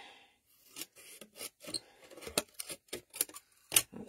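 Scissors snip through card for Christmas gift cards in a quick series of short, close, crisp cuts with small pauses between them, a soft rasping edge on each snip, no voices.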